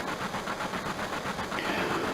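A train rolls along in the Final Fantasy 7 video game, a low steady rumble with faint rhythmic clatter, moderately quiet and uninterrupted throughout.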